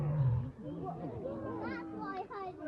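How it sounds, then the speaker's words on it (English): An energetic captive tiger gives a low, rumbling roar near the start, followed by lively chatter and children's voices mixing over the background. "Here's that roar."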